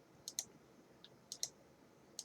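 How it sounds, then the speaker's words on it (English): Sharp, quiet computer mouse clicks while drawing in Photoshop, arriving in three close pairs with a faint single click between, alone in a quiet room. "I'm not holding my mouse, I'm just clicking"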